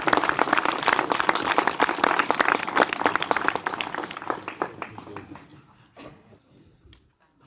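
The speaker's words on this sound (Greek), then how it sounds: "Είναι υποτονικό το χειροκρότημά σας" An audience applauds with dense, close clapping that is loud at first, then thins out and fades to a few scattered claps near the end.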